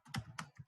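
A few quick, quiet clicks of computer keyboard keys come close by in a short burst, as Java code is typed.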